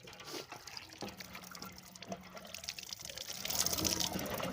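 Water gushing from a hand pump, splashing and trickling in irregular spurts that grow louder toward the end, with no voices over it.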